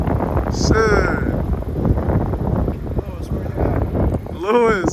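Cold wind blows hard outdoors, buffeting the microphone with a constant loud rumbling rush, while voices and brief vocal sounds break through over it.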